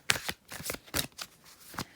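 Tarot cards being shuffled up close, a quick run of crisp riffling flutters and taps over two seconds.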